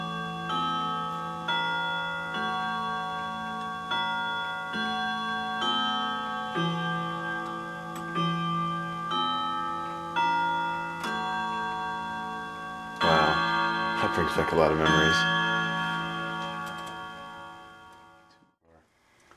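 A 7-day wind-up chiming clock ticks steadily while ringing tones sustain and decay, with a louder burst of strikes near the end before fading out; someone speaks briefly over it.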